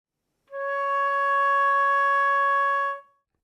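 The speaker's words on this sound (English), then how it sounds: "To finger C sharp / D flat in the second octave," A flute sustains a single second-octave C sharp for about two and a half seconds, steady and clear with a strong, even tone, played alone with no talking.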